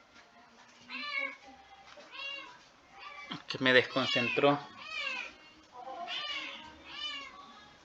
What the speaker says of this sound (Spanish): hay un gatito aquí totalmente desesperado